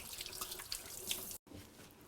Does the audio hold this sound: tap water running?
yes